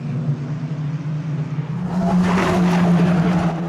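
Race cars at a Kirkistown club meeting roar close past on the track, a steady engine drone swelling into a louder, rasping rush as the pack goes by.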